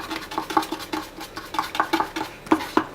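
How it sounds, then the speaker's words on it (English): Chlorate-based rocket candy paste being worked in a bowl, with a steady run of light clinks and scrapes as the utensil stirs and taps the bowl, close and clear with no talk. "This will take quite a bit of mixing to fix."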